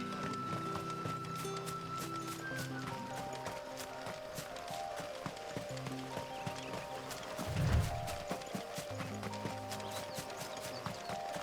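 A mount gallops in Final Fantasy XVI, steady clip-clop hoofbeats running throughout over a soft musical backdrop, with a brief heavier thud partway through.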